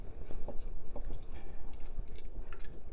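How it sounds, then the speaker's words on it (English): Corn relish stirred in a pot in a home kitchen, soft wet squishing and thick, sloppy churning at close range, steady and continuous without speech. "So now I'm just going to stir this around,"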